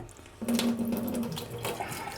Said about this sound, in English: I'm just gonna have to wash my hands again. Unfortunately, the water's not hot.